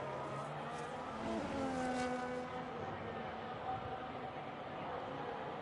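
A Mercedes racing car's engine in a racing video game at a virtual Melbourne, Australia circuit, stuttering through the final couple of corners: a loud, continuous engine drone with pitch rising and dipping across the whole stretch, fairly close and without clear talk.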